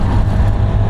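Honda Activa 125 scooter at full throttle while overtaking in traffic, a steady low engine drone with road and traffic rumble, continuous and loud throughout.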